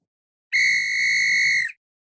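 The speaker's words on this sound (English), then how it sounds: "Well, Dan, Nick, you just heard that whistle blow, which means that we have reached the end of" A single loud, shrill referee-style whistle blast lasts just over a second, signalling the end of regular time, sounding alone against silence.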